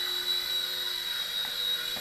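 A Silverlit Spy Cam II toy helicopter hovers nearby with a steady, high-pitched electric whine from its small motor and rotors, constant and unbroken.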